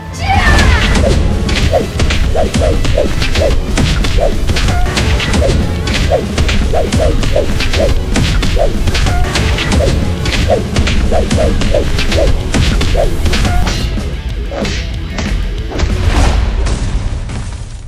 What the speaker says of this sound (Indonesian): rasakan ini pukulan maut